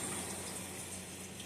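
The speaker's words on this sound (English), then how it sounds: "So we'll let that fry" Pollock fish dredged in flour frying in oil, a steady hissing, bubbling sizzle at moderate volume, close and continuous with no talking.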